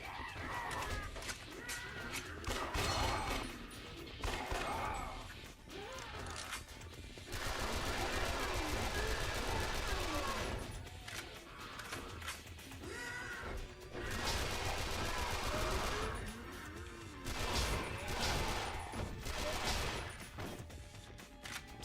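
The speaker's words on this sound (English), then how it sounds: "Submachine guns are really good. Running out of ammo for it though." Submachine gun fire in the video game Yakuza Dead Souls, rapid automatic bursts recurring in loud stretches with brief lulls between them, layered with crashing game effects.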